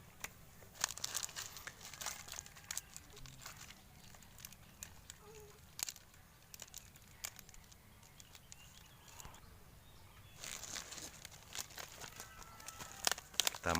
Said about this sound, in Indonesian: Kita buka dulu boosternya.